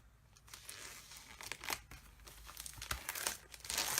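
Plastic packaging of a Stampin' Up! card kit being opened, with close, faint crinkling and tearing in irregular bursts.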